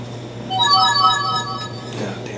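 A phone ringtone trills in a repeating electronic melody, fairly close and clear, over a low steady hum, then breaks off.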